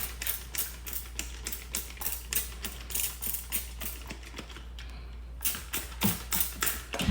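A spray bottle trigger is pumped rapidly and repeatedly during car detailing with a ceramic coating product, giving quick, evenly spaced hissing squirts up close, with a short pause before the pumping resumes.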